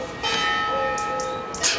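A church bell in Spain tolls with sustained, ringing tones, each strike humming on into the next, heard at moderate distance over steady outdoor background noise.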